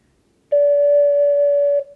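One sustained D note on an ocarina, smooth and breathy-pure, held evenly for about a second and a half before stopping.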